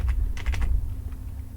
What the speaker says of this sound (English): I'm pressing up and over with my arrow keys